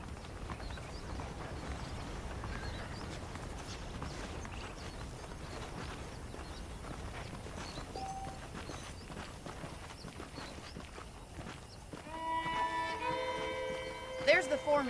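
Horse hooves clip-clopping on the ground in the Red Dead Redemption video game, a steady rhythmic gait under continuous spoken dialogue, with music rising toward the end.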